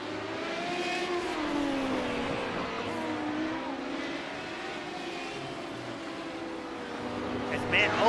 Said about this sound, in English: This is the great racing we've all come to see.